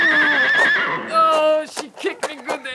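A horse gives a loud, wavering whinny, then a second neigh, followed by rapid snorting and jumbled shouts from people nearby.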